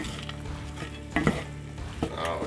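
Vegetables and onion sizzle and fry in a pan, with steady crackling and a couple of louder stirring scrapes partway through, no voices over it.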